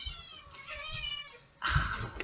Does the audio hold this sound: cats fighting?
yes